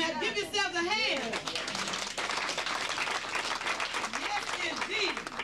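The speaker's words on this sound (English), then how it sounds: "Give yourselves a hand." A seminar crowd gives a sustained round of applause, dense clapping that carries on throughout, with a voice and some cheering and chatter mixed in at the start and again near the end.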